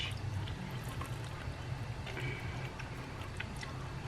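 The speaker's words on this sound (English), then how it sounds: "we're gonna take our marinade, and we're gonna pour it down over the fish" Marinade poured over speckled trout fillets laid on rice, a steady low liquid pour and trickle continuing for a few seconds with no one talking.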